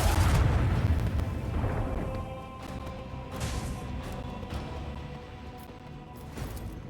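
A starship's dorsal lance fires in Warhammer 40K Rogue Trader, a heavy booming blast that rolls into a long rumbling tail, with fainter thuds and crackles after it.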